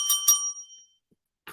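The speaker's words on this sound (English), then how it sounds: "Ring my bell." A bright bell alert for a livestream rings twice in quick succession, loud and close, then fades out before a brief soft noise near the end.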